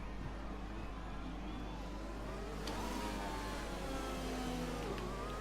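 Formula 1 cars from the F1 2020 video game idle and roll on the formation lap at the Belgian circuit, a faint steady engine drone with rising and falling pitch sweeps as cars move around.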